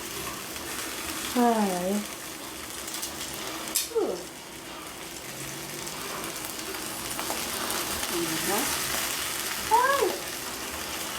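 Longanisa sausage fries in a pan with a continuous, fairly close sizzle, broken by a few brief voiced exclamations and small kitchen noises.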